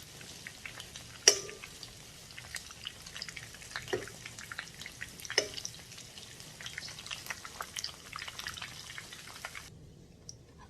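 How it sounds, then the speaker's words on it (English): Shrimp egg foo yung patty frying in a pan, a steady soft crackle and sizzle with scattered pops and a few sharper spatters, close and moderately quiet, no talking. "You see the egg cooking up."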